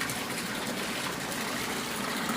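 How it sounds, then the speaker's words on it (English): Steady broadband rush of water pouring from a pipe into a basement pool pond, a continuous, even gushing splash with no breaks, close and fairly loud. "that'll both minimize the water noise and the splashage that you see occurring"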